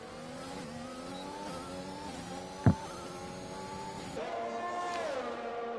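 Race car engines in a sim racing practice race, several high-pitched motors whining and shifting through gears together, with one sharp thump midway and a louder car rising near the end.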